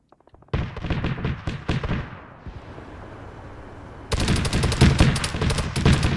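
Cheetah anti-air vehicle gunfire in Arma during a CSAT Malden campaign: rapid bursts of loud automatic cannon fire, a pause of quieter rumble, then a denser, sustained volley, with no talk.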